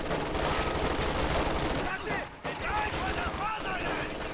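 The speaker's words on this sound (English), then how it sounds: "MG42 does manage to suppress the squad" MG42 machine gun fire in the snowy World War II strategy game Company of Heroes 2 rattles in dense, loud bursts, layered with other gunfire and battle noise that barely lets up.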